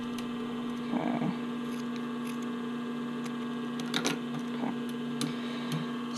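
A sewing machine stitches across a sports bra waistband, its motor holding a steady hum with a few soft mechanical clicks and rattles along the way, and no voices.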